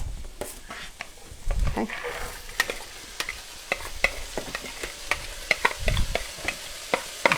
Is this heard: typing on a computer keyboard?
no